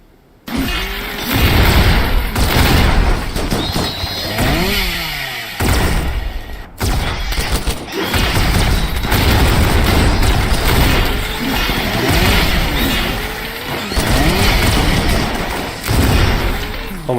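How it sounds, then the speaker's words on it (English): Rapid gunfire from Gauss rifles in Rimworld, a dense, loud barrage of repeated thumping shots and impacts that runs almost without pause, with a brief break partway through. "are you guys shooting each other in the back of the head? Oh, it's goddamn Gauss rifle."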